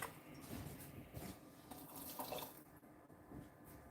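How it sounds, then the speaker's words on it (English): Water is poured into a pot of cooking kidney beans for beef chili, a faint running trickle and splash that drops off partway through. "I'm going to add some water to my beans and let them keep cooking."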